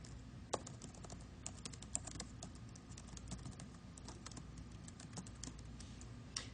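Steady typing on a computer keyboard while writing Java code in the Eclipse editor, a quick run of close, light key clicks with a few louder taps, alone against a faint constant hum.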